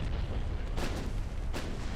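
Naval guns firing high explosive shells in the Ultimate Admiral Dreadnoughts warship game: two heavy, booming shots roughly a second apart over a dense, continuous rumble of battle.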